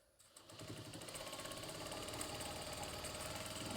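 A sewing machine stitches quilt fabric for half square triangles, a steady fast mechanical hum that builds slightly, running continuously and quietly without talk.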